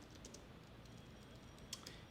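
Quiet keyboard typing while entering a search for cosmetic surgeons on a computer, a few soft, sparse key taps under steady room hiss, with one sharper click standing out.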